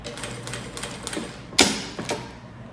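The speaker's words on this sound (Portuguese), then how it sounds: "eu vou seguir costurando esse segundo coração que tá aqui embaixo" A sewing machine stitches a quilted heart design in fabric, giving a soft, steady run of mechanical stitching that is cut by a sharper clack partway through before it tapers off.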